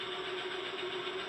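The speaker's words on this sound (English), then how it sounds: "that's my John Deere clock. It has different tractor sounds, and it goes off every hour" A John Deere novelty clock chiming the hour with a recorded tractor sound: a steady, droning engine idle with a constant hum, close and continuous, no talk.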